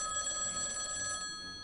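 A telephone rings in the video game Lucius, a bright, continuous metallic bell trill that cuts off near the end, with faint ambience underneath.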